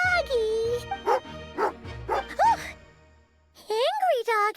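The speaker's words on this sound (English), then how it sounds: "Angry dog." A dog in the game Genshin Impact gives a few yipping, whining barks in short bursts, close and loud, with a rising whimper-like call near the end.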